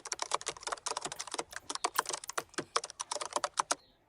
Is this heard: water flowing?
no